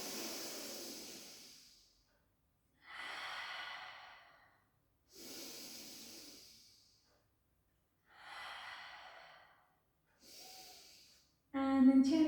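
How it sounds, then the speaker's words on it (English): Slow, deliberate breaths drawn in and out through the nose during a gentle pilates session, about five long airy cycles separated by pauses, close and soft, with a brief louder sound at the end. "Take a beautiful breath through the nose"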